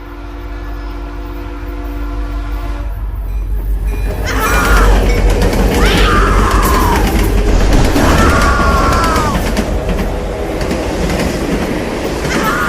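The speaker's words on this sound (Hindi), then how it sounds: "ट्रेन सुरंग के अंदर घुसी" A train runs loudly and continuously, its rumble swelling partway through as it enters a tunnel, with long squealing wheel tones rising over the steady roar.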